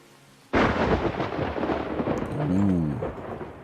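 A sudden loud thunderclap cracks and then rolls on in a long rumble over steady rain, a storm striking a survival city-builder town; no voices.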